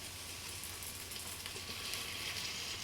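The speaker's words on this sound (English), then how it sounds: "I might actually just dump in a little bit of this soy now, just to have get a little bit of flavour going through these vegetables and the bacon" Soy sauce splashes onto bacon and vegetables frying in a hot pan for noodles, giving a steady, close, even sizzle that swells slightly toward the end, with no voices.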